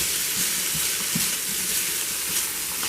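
Garlic and green onion fry in a pan, giving a loud, steady hiss and crackle with soft scraping bumps as the pieces are tossed around, and no voices.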